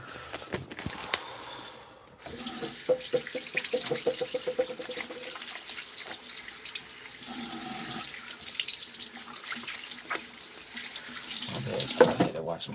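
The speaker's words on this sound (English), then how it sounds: "I had to wash my hands." Tap water gushes steadily into a sink during handwashing, a loud close rushing stream with faint handling noises and splashes, starting abruptly after a few seconds of quieter sounds.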